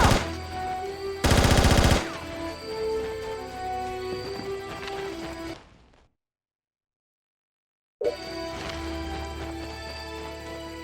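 Gunfire in SOCOM 3 US Navy SEALs: a loud burst of automatic shots near the start, then a sustained mix of game noise and music that cuts to full silence for about two seconds before resuming.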